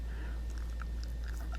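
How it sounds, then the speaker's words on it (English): Chewing on a crunchy bite of smoked chuck roast BBQ beef sandwich topped with pickled red onions, with close, faint crackly crunches in an uneven rhythm and no talking. "Great crunching."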